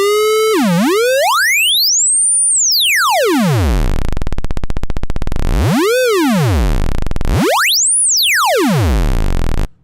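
Wavetable synthesizer tone with linear interpolation, a loud, smooth harmonic tone sweeping steeply up and down in pitch, with repeated glides and a brief buzzy low passage before it cuts off at the end.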